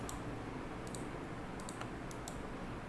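Computer mouse clicks, a few sharp, faint ticks scattered irregularly over a quiet hiss, with no talk.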